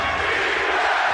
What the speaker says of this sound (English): Crowd going nutty here at the Moda Center